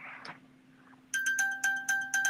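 A phone notification set off by a newly paired watch chimes in a quick series of bright, repeating electronic beeps, clear and close, after a brief moment of quiet room sound.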